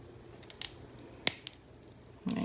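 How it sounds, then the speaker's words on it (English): Small scissors snip coil wire leads close to the deck of a STNG MTL RDA by Wotofo and Uncle Stas, giving a few sharp, quiet clicks and one distinct louder snip, close up with no talk. "let's go ahead and cut our leads closest to the deck as possible"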